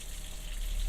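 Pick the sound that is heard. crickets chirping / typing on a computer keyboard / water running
water running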